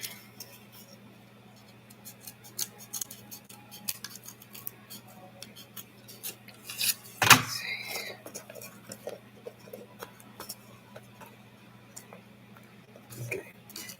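Scissors snip around a handmade craft piece, a few faint cuts scattered through a quiet room with a louder snip in the middle, under a low steady hum.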